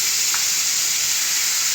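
Steak fries in a ceramic non-stick pan with a loud, steady sizzle and hiss that never lets up, heard up close with no voices.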